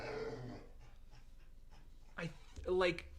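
A dog whines and pants at close range, with short breathy whimpers and a louder high-pitched cry near the end, heard alone without talk.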